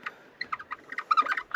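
A small bird chirps near a birdhouse on a wooded trail, a few quick, faint tweets and twitters scattered over a quiet background.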